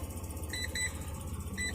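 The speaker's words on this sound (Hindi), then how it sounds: "आप देख सकते हैं बीप बीप टाटा नैनो के अंदर आपको सुनाई दे रही होगी" Tata Nano cabin with a radiator-fan fault and overheating: short electronic warning beeps repeat at an irregular pace over the low, steady hum of the idling engine, heard from inside the car.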